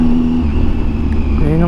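A Triumph Tiger 800 three-cylinder adventure bike fitted with a Yoshimura exhaust hums steadily while riding, a close engine drone with rising pitch near the end and a voice talking over it.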